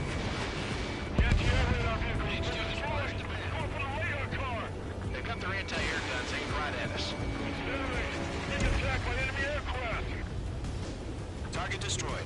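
Anti-aircraft guns pound away in the Ace Combat 7 combat flight game, a busy stream of bursts and booms mixed with radio chatter, engine roar and music, with voices talking over the gunfire.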